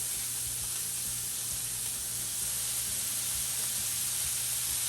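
Roast beef hits a hot PC grill and sizzles in a loud, continuous hiss that stays even throughout, with only faint low clatter beneath and no talking.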